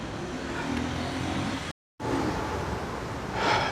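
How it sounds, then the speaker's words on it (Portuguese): Busy city street traffic in Manaus, Brazil, a continuous roar of cars and engines passing nearby, steady and loud, broken once by a brief cut to silence before the traffic noise resumes. "o trânsito daqui é caótico"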